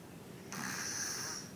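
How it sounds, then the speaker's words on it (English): A baby snores in one soft, raspy inhaled breath that rises suddenly and holds steadily, close and fairly quiet with a hissing edge. "Isn't it cute how he's snoring?"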